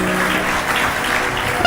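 Applause from an audience of mothers at a spiritual talk, a dense, steady patter of many hands clapping together throughout, loud and continuous with no pauses.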